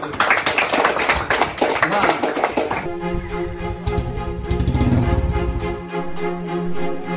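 Students at a Silambam summer class clapping for themselves, a dense burst of rapid applause that stops abruptly, followed by quieter background sounds and voices.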